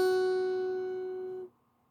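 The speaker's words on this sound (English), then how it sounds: "we're going to put our middle finger on the 2nd fret of the thinnest string" A single guitar note plucked on the 2nd fret of the thinnest string, a clear sustained tone with ringing overtones that fades, then is damped abruptly after about a second and a half, close and alone.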